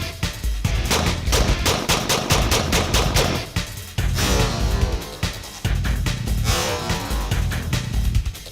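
A Hi-Point carbine fires on an outdoor range, a long run of loud, sharp rapid shots in quick succession with short pauses between strings, close and dominant.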